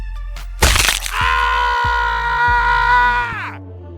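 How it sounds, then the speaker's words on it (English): A man's scream sound effect: a sharp cracking burst, then a loud, sustained, strained male yell that holds for a few seconds before cutting off, with no talk over it. "The first sound effect I'm going to add is a man screaming, which I got from pixabay.com"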